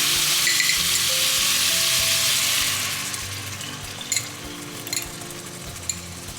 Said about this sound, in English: Next, we're going to add in a mixture of our eggs.